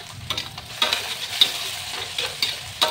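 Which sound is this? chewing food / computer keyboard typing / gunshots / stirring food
stirring food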